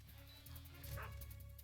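A guard dog in Metal Gear Solid 3: Snake Eater gives a short, faint yip and whimper over low game ambience.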